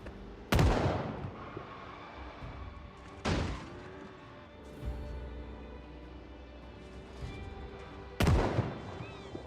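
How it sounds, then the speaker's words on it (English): Gunfire from a police officer in Project Zomboid, three heavy booming shots spaced several seconds apart, each ringing out over a low, steady background. "Oh, it's just a cop shooting."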